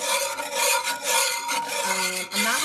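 Sauce for chicken piccata is whisked in a cast iron pan, giving rapid, scratchy metal-on-iron strokes in a continuous rhythm with brief pauses, close and loud.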